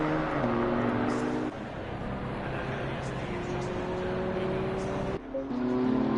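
A BMW M2 race car in a sprint cup session at the Hungaroring, its engine droning steadily with shifting pitch as it passes, under continuous commentary.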